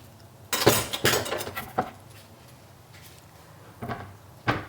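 Baby button mushrooms sliced on a board with a knife, a few sharp near knocks in two short bursts separated by a quiet pause, no talking.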